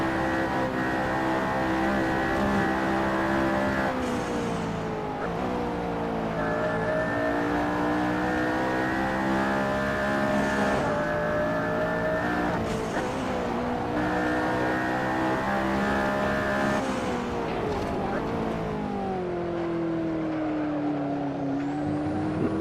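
A race car on its first laps of a track with carousel corners runs at over 150 mph, its engine a loud, sustained in-car howl rising through the gears, with pitch drops at shifts and braking, no talk.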